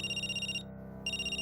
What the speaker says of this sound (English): her phone began to ring again